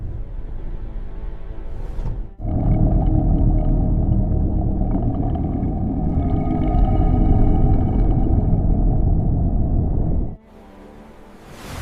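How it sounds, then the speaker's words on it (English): Bowhead whale vocalization beneath Arctic ice, a long, loud, low droning moan lasting about eight seconds with a steady tonal layer, set off by quieter stretches at the start and end. "Bowhead whales navigate slowly beneath ice using sound and memory."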